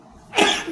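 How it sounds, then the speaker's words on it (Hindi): A single sharp sneeze bursts out close by after a quiet moment, loud and breathy, trailing off into a short exhale. "मेरे को छींक आ रही है बहुत तेज"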